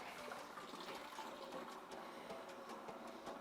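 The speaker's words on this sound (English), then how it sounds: "I can open up the pump here and start transferring over into the fermenter" A pump moving cooled wort into a fermenter gives a quiet, steady watery rush with faint mechanical whir and light splashing, continuous and low in level, with no talk.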